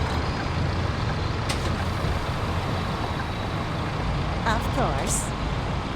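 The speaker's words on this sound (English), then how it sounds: "And why is this bus so long? Because we are driving the Bendy Bus." Articulated bendy bus in Bus Simulator 18 rolling along with a steady low engine and road rumble, plus a brief hiss like an air brake release, while someone talks briefly over it.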